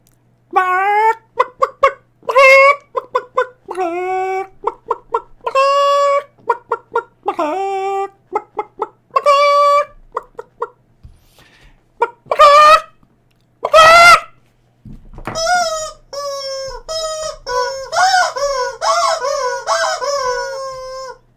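A chicken clucks loudly and close in rapid bursts, broken by a few longer crowing calls and squawks, with no talk over it.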